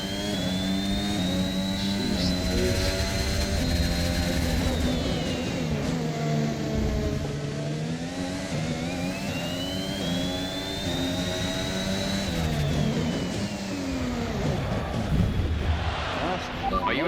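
High-revving racing car engine in a video game, set at Singapore and Suzuka, droning steadily for the whole stretch with rising and falling pitch as it accelerates and shifts, loud and close, with a voice speaking over it.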